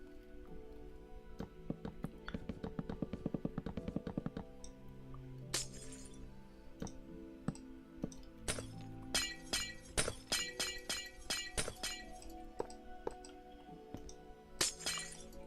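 Glass blocks shattering in the video game Minecraft, a long run of sharp crashing breaks, scattered at first and then coming in quick bursts, some stacked close together, with a low game-music bed underneath.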